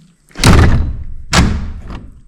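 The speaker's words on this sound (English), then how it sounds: "We don't need to slam the door every single time" A door slams shut twice, about a second apart, each a heavy, close wooden thud with a short rattle, loud and with no talk over it.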